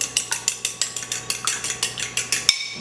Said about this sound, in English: Take this fork, mix it up a little bit,